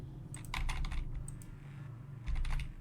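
Fingers tap out bursts of keystrokes on a computer keyboard, close and clicky, with a pause midway before a final quick run of typing.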